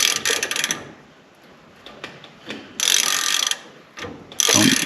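Ratchet wrench loosening nuts on the front end of a dirt track race car, bursts of rapid clicking ratcheting, loud and close, separated by quieter pauses with small metallic handling sounds.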